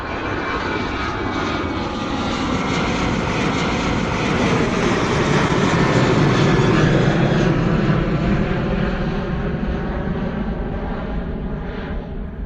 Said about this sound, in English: Gorgeous rotation and departure from the Jet 2 holiday livery.